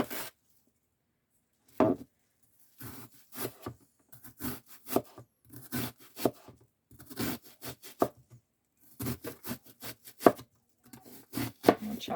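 A knife chops through a big onion on a cutting board in a home kitchen, with irregular bursts of crisp, close cuts separated by short pauses.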